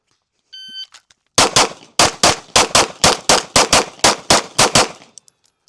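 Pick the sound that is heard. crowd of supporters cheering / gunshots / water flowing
gunshots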